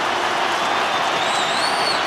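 Large stadium crowd at a Fremantle vs Port Adelaide Australian football game, a dense, steady roar with scattered clapping and a rising whistle near the end.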